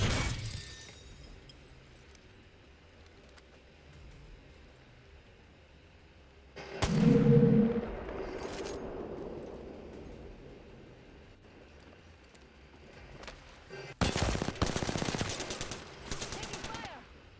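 Gunfire in the video game Apex Legends, with a loud burst of shots midway and another rapid volley near the end over a low background of game ambience.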